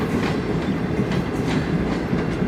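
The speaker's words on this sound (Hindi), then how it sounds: "ये ड्रेग रोड स्टेशन पहुंच गई है ट्रेन हमारी" The Shalimar Express rolls into Drigh Road station in Karachi, a steady close rumble of train wagons with rhythmic clickety-clack from the wheels on the rails, heard without talk.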